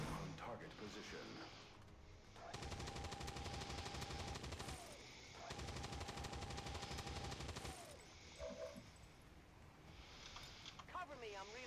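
Sustained bursts of automatic gunfire in XCOM 2, several long rapid volleys separated by brief pauses, loud and dense, with a game voice speaking over parts of it.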